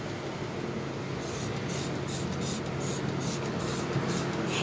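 Cleaning spray hisses steadily in a kitchen, a continuous close spritz lasting several seconds, with faint rhythmic pulses near the end and no talking.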